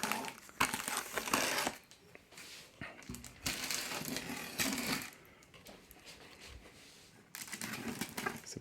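Kickstarter parcel opened up close, with bursts of crinkling and crushing packaging material that come and go irregularly, loud rustles separated by quieter handling.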